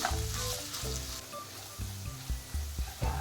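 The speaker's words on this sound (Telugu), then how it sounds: "వీటిని కొంచెం క్రిస్పీగా అయ్యేలాగా ఫ్రై చేసేసుకోవాలి." Carrot and potato pieces fry in hot oil for a carrot aloo rice, giving a steady close sizzle with low stirring clatter throughout, no voices present.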